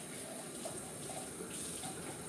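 Water runs steadily from a tap into a cooking pot, a soft, continuous splashing hiss that holds at a low, even level throughout with no voices.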